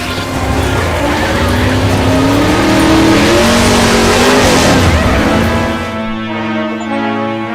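A car from the video game Left 4 Dead 2 drives hard and accelerates, its engine roaring loud and close with rising revs and some tire squeal, fading off near the end.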